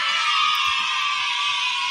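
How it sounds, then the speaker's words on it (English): Children screaming together in a commercial, a sustained shrill cry that holds steady at constant loudness for the whole stretch with nothing else beneath it. "That scream is so funny"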